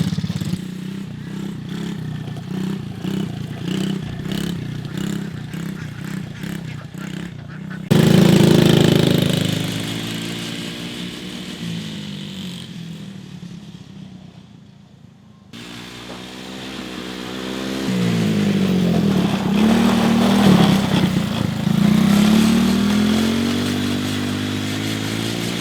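Kids ride quad four-wheelers on a farm, with buzzing engines revving and droning close by, the pitch rising and falling as the machines pass, briefly fading before growing loud again.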